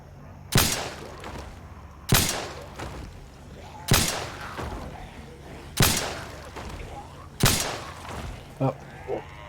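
Five loud shotgun blasts from the video game Project Zomboid, spaced about two seconds apart in a steady rhythm, each with a sharp attack and short decay, followed by a few small clicks at the end.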